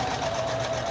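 A sewing machine runs continuously, stitching strips of fabric for a scrappy string quilt, with a steady close whirring hum and a faint rapid needle rhythm.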